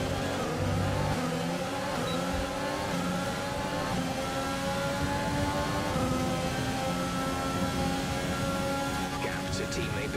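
A Formula 1 car engine in a racing video game's career mode whines steadily at high revs, sitting fairly low in the mix beneath someone talking over it.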